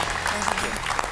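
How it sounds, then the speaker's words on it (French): Studio audience applause on a French television quiz show, a steady wash of clapping filling the whole moment with no break. "On a applaudi Muriel et Johan qui accompagnent Muriel jusqu'à sa place."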